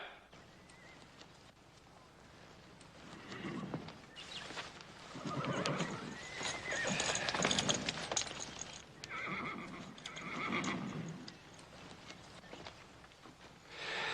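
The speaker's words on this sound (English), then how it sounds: "Charlie, slap a saddle on this black horse" A black horse whinnies repeatedly while hooves clop on the ground, with faint voices and movement in the background, fairly distant and soft.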